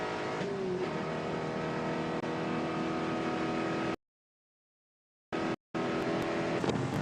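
Loud, steady engine roar from onboard a Spec Corvette race car running down the front straightaway at Auto Club Speedway, held at high revs. The sound cuts out completely twice near the end before the engine roar returns.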